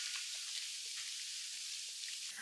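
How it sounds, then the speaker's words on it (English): Brussels sprouts with a little salt sizzling in a pan, a soft, even frying hiss with faint pops, quiet and close, no voices. "We're going to caramelize the Brussels sprouts today"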